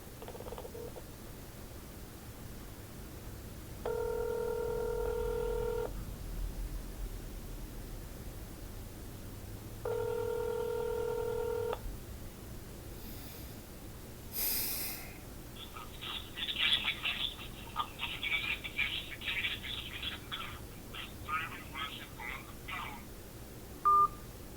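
Telephone keypad tones sound on a call to a Social Security office: two separate sustained dual-tone beeps, each about two seconds long, followed by faint rustling and clicks on a quiet line.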